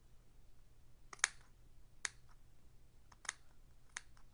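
Paper being trimmed for a handmade card project, heard as four crisp, separate cutting snaps spaced about a second apart over a faint steady low hum. No one speaks.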